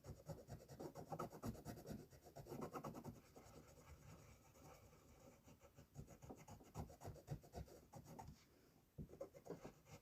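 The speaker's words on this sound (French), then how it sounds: "Vous voyez, je gratte bien le blanc pour vraiment..." A blade scrapes off white paint in short, rasping strokes, uneven bursts of scratching with brief pauses between them, close and fairly quiet, with no talk.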